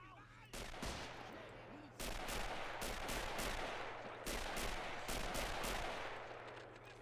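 Gunfire in the Men of War Assault Squad 2 WW1 mod battle, repeated sharp rifle and machine-gun volleys cracking in clusters over a low steady hum, with a voice faintly present in the background.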